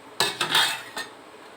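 A metal pot lid set back onto a pot of boiling food, a sharp clank followed by a second rattling clatter and a lighter tap a moment later, close and clear over quiet background.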